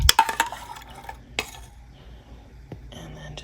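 Rum glaze is spooned over a warm Bacardi rum cake in a cake pan, giving a few metallic clinks and scrapes of spoon on pan, mostly close and sparse, fading into quieter shuffling.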